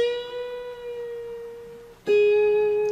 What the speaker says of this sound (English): when we get to the B string, we'll bend it like this